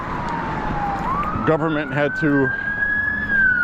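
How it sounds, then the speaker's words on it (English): A wailing ambulance siren passes by on a street during a walk in Maine, its rising tone steady and prominent under someone speaking nearby. "let's wait for this ambulance. It's going by."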